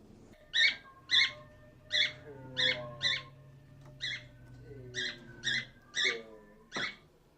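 A bird calling outdoors near California's mountains, a series of sharp squeaky chirps in uneven pairs, fairly close, with faint tonal calls between them and no talk.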